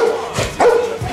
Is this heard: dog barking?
yes